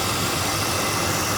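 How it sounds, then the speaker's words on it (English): A Chevrolet Blazer engine runs steadily after repair despite heavy smoking, a constant close-up idle drone with dense broadband noise and no break or voices. "Well, it certainly runs a hell of a lot better despite the smoking."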